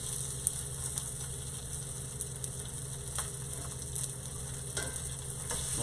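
Steak sears in a cast iron pan with a steady, even sizzle running throughout, broken by a few faint ticks and clicks.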